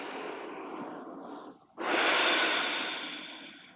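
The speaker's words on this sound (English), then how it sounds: "Take a deep breath." Deep breath during a yoga class, a long airy inhale, a brief pause, then a louder rushing exhale that fades slowly, close to the microphone with no talking.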